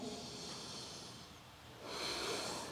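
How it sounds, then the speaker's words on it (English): A deep breath during a yoga class, a soft hissing inhale and exhale close to the microphone, faint and breathy, with no talking. "One more breath in."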